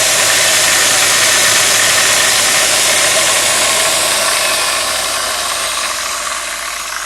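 Bosch BWS 230 angle grinder motor running steadily with sparking brushes, a loud continuous broadband whir and hiss with a faint low hum, alone and easing slightly in level toward the end.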